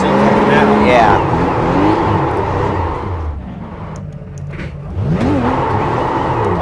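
A rear-wheel-drive RUF Porsche race car is driven in iRacing at Daytona, its engine loud and close, revving up through the gears with a brief easing of throttle midway before climbing again.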